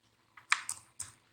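Keys on a computer keyboard tapped in a short burst of four quick, close strokes, alone with no voices.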